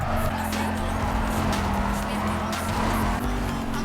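Engine roar and gearbox whine from an exotic car in the racing video game NFS Carbon, a steady loud drone with a constant tonal hum and occasional tire noise, running the whole time without a break.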